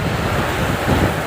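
Strong winter storm wind buffets the microphone in a steady, loud roar with rumbling low gusts, during a thunderstorm and windstorm sweeping across Egypt.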